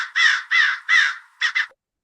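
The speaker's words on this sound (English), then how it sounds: "crow" A crow caws loudly and close by: three long harsh caws in steady rhythm, then two shorter clipped ones, with nothing else audible underneath.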